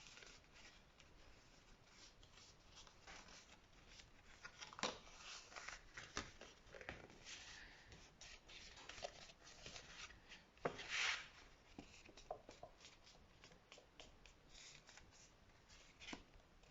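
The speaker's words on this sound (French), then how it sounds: "Donc on va plier les deux parties là" Paper card being folded into two parts by hand, soft close crinkles, rubs and creases in a quiet room, with a few brief sharper snaps.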